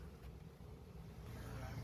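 A diesel engine powering a makeshift roadside vending rig in Andhra Pradesh runs as a low, steady rumbling drone that swells slightly toward the end, heard faintly with a hint of voice beneath.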